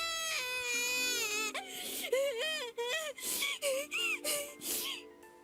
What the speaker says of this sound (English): I heard a child crying somewhere.